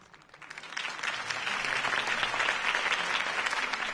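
Crowd applause at a political campaign rally in Batman: The Telltale Series swells up from quiet within the first second, then holds as a dense, steady wash of clapping.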